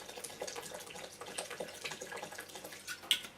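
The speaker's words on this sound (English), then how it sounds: "I'm going to take the alkalized water and just add the rest" Alkalized water is poured into a blender of superfood smoothie, a steady close trickle and splash with small gurgling bursts, continuing evenly with a brighter splash near the end.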